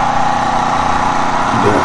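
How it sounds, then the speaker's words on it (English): An engine coupled to an electricity generator runs at a steady, loud, close drone, with a voice faintly present over it. "that is the engine"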